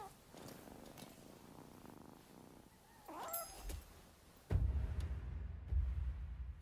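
A cat purrs in the Nioh 3 video game, a soft steady rumble under background game sounds that swells louder and fuller in the last couple of seconds.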